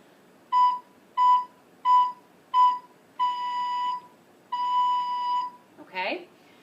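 A recorder plays the note B: four short, evenly spaced tones, then two longer held tones, each clear and moderately loud, with a brief voice sound right at the end.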